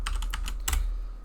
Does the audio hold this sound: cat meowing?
no